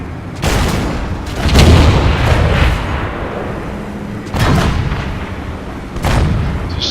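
Tank cannon blasts from a World War II tank game featuring a KV-1, four heavy booming shots spaced a couple of seconds apart, each with a long rumbling decay, loud and close with no talking.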